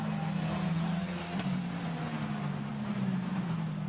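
A Renault EuroCup race car at the Barcelona-Catalunya circuit braking down into turn one, its engine a steady loud drone that holds across the moment with little change in pitch.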